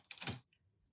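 A single quick slice through card stock for a handmade greeting card, a brief crisp snip close to the ear, then silence.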